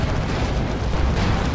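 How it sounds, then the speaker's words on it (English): Vanquisher cannon fire from a Leman Russ tank strikes rear armor in a Dawn of War 2 battle, a dense, rumbling barrage of booming explosive hits that stays loud and continuous. "Taking some rear armor hits from this Vanquisher cannon Leman Russ"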